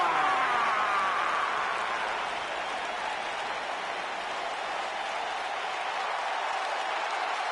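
Crowd applause from a wrestling arena in the video game WWE 2K19, a steady dense wash of clapping and cheering that holds evenly throughout, loud and broad with no break.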